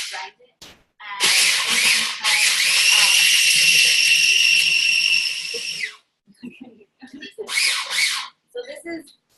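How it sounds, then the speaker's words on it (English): Food processor grinding garlic with nuts for pesto, a loud whirring motor running in two bursts, the second a short pulse, with brief handling noises between. "I'm gonna blend the garlic in with the nuts. So I'm just gonna lock this up and grind it"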